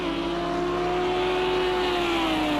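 A Lamborghini GT3 race car in Project CARS 2 screams past in an online sprint race, its engine a loud, steady high-revving whine that holds pitch, then drops slightly as it goes by, with no talk over it.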